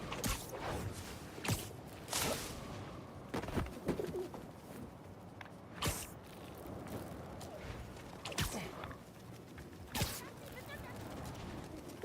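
Pigeons coo and flutter in Marvel's Spider-Man 2, a bird tied to Howard, with soft calls over a steady ambient city bed, broken by a few sharp transient bursts and faint background voices.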